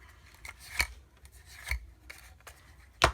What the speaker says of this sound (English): I'm just going to go ahead and take my bone folder and curve the end over on both sides